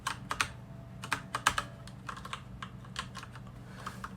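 Keys pressed on an ASUS ROG Strix Flare gaming keyboard: an irregular run of crisp clicks and taps, some in quick pairs, close and fairly quiet over a low background hum, with nobody talking.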